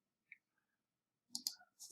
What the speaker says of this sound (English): Shampoo is kind of hard, so I'm clicking and deleting these